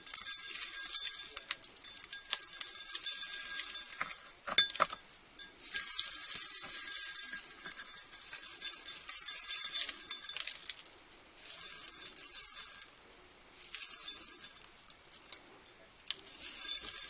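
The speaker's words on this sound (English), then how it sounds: "Now I'm just going to sprinkle this crushed glass all over it" Crushed glass rains down over a Mod Podge-covered Christmas ornament in several bursts, a fine, bright tinkling hiss that stops and restarts, heard close and alone.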